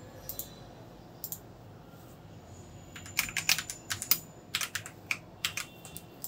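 Someone typing code for an operating-systems fork simulation on a computer keyboard, scattered key clicks at first, then quicker bursts of crisp, close keystrokes, quiet overall with no voices.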